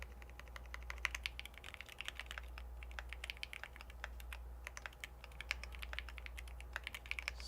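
Rapid, steady typing on a computer keyboard while solving coding practice problems, with close clicky keystrokes rattling continuously over a low constant hum and no talking.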